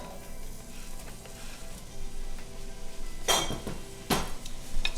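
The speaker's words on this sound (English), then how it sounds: "our whole garlic cloves, our sliced onion, and our roasted peppers are gonna go in the pan" Whole garlic cloves, sliced onion and roasted peppers go into a hot pan: a low sizzle with two loud bursts of hissing and clattering as the vegetables hit the oil.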